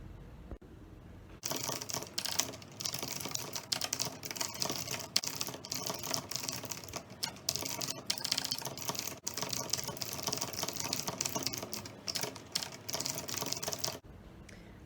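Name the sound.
typing a novel chapter on a computer keyboard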